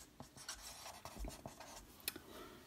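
Pen writing on paper, a handful of short scratchy strokes at close range with small gaps between them, faint and quiet, no voices.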